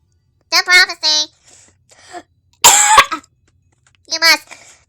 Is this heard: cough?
yes